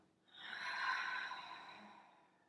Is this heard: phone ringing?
no